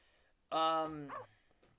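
A single sharp cartoonish dog bark from the After Dark Bad Dog screensaver, a short harmonic yelp with a falling tail, close and clear against near-silence.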